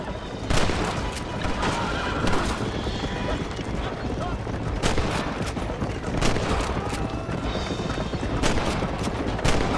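Gunfire in the Red Dead Redemption video game on Xbox 360, a series of sharp shots over busy noise of horses whinnying and galloping, with voices talking in the mix.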